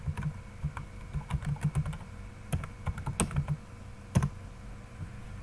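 Rapid bursts of keystrokes on a computer keyboard while entering entries in an Excel spreadsheet, close and fairly quiet, coming in quick clusters with short pauses and a few sharper isolated taps.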